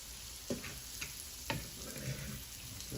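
Bacon frying in its grease for a deluxe grilled cheese with mushrooms and onions gives a steady, close sizzle, with a few soft clicks and knocks from cookware over it.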